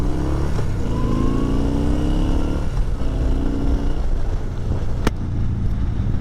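A 2020 Yamaha Bolt R-Spec cruiser motorcycle engine runs steadily while riding, its loud, continuous low rumble rising slightly in pitch as it accelerates, with wind noise throughout.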